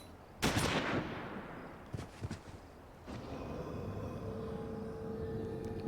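Gunfire in the video game Final Fantasy XIV: a sharp loud blast followed by a scattered burst of shots, then a lingering rumble and hum of battle ambience, with no voices.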